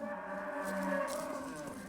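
Cattle mooing on open grassland ranch country, a single long, low, drawn-out bellow heard at a moderate distance, steady and fairly quiet throughout.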